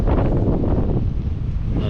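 Wind blowing across an outdoor campfire, a steady close rushing roar that buffets the microphone with no pauses or voices.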